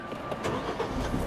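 A Suzuki Jimny loaded with weight and losing momentum as it climbs a steep mountain track in four-wheel-drive high, its engine droning steadily under strain, rough and continuous, close by with no talking.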